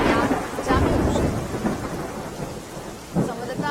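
Rain falls at Mount Abu as a steady, dense hiss with low rumbling swells, heard close and continuous throughout.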